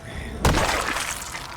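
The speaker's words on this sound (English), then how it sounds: "It's kind of the wrong noise for smashing a tent, if you ask me" An in-game tent being smashed in Project Zomboid makes one sudden loud crash-like impact, with a heavy thud and a broadband burst that trails off into a fading rumble.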